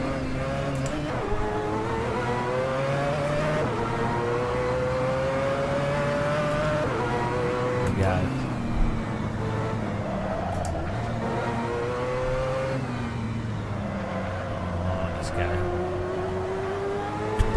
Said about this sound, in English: we're driving a drift wagon now